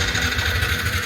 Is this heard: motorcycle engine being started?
yes